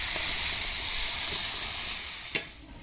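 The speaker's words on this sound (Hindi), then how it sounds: "अभी गोभी आलू हमारे कढ़ाई में भुन रहे हैं" Cauliflower and potatoes fry in a kadhai with a steady, soft hiss and sizzle that fades slightly near the end, broken by a brief sharp clink.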